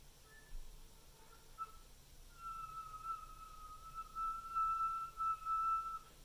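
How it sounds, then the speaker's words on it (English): A flute plays a faint, pure whistle tone on the note A, a thin steady pitch that wavers slightly and sustains over several seconds in a quiet room. "once you can get a whistle tone on a note"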